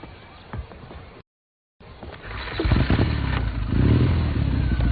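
Motorcycle engine revving up and running close by, starting after a brief dropout and growing louder and steadier toward the end, with clattering movement and faint voices mixed in.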